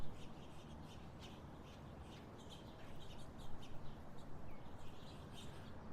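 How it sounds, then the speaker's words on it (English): House finches at a bird feeder: faint, quick chirps and tweets in scattered clusters over a soft outdoor background, growing a little busier toward the end. "House finch party continues out here."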